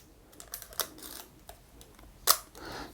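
A Leica M6 film camera's advance lever winding and its shutter clicking, quiet close-up mechanical ticks with one sharper snap near the end and a soft ratcheting rasp after it, no voices.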